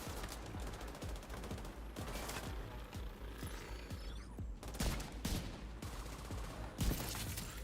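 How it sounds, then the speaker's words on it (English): Gunfire in The Division 2 video game, rapid repeated rifle shots in bursts with sharp cracks, distant and mid-range, steady throughout. "He's shooting at me below grade with like perfect accuracy."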